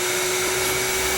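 Steady, loud whooshing drone of a running vacuum cleaner with a constant hum, continuous and close throughout with no talk.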